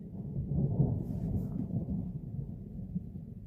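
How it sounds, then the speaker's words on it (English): Thunder rolls as a deep, steady rumble that lasts the whole stretch, fairly loud, with no voices over it. "And then literally, thunder happened."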